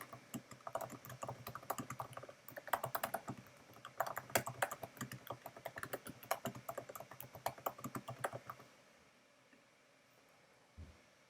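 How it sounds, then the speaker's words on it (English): Rapid, irregular clicks of typing on a computer keyboard run steadily for about eight seconds, then stop and leave near silence with one soft knock. Close and clear, with no talking. "all I have to do is just fill out some fields, provide my instructions right here"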